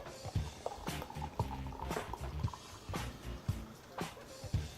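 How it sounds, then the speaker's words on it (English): Beer, American Solera The Ground Is Shaking (2017), poured from a large bottle into a glass, with gurgling liquid and carbonation fizz interrupted by several clinks and knocks. "let's get it open and get it into a glass"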